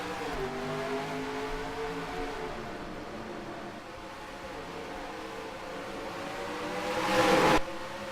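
Stock cars in a racing video game roar away from the green flag at the Bristol night race, a dense, sustained engine drone that dips slightly then swells to a loud burst before cutting off abruptly.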